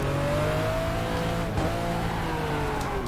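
A Porsche 911 IROC race car in the GTR2 racing game slides through a drift, its engine droning steadily with shifting pitch and a faint tire hiss, loud and continuous without voices.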